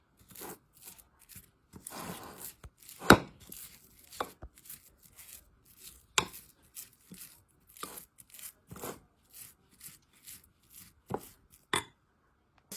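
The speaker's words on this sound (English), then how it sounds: "So let me mix it first, and then we are going to add a coriander leaves in it." Dough mixture for fara pitha mixed by hand in a bowl, irregular squishing, rubbing and slapping bursts with scattered sharp taps, close and fairly quiet with no talk.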